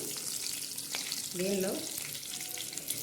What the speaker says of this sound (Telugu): కొంచెం జీలకర్ర వేసుకున్నామండి.